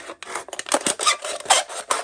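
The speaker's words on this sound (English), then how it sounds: "We are going to take the Nanner and see how it does against aluminum." CJRB Nanner knife blade slicing through an aluminum can, a close, loud rasping scrape in uneven strokes with brief gaps between cuts.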